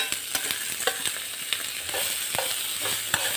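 Green chillies, onion and tomato fry and sizzle in a pan in a tempering made with only a little oil, while a spoon stirs them, giving scattered sharp scraping clicks over a steady close hiss, with no voices.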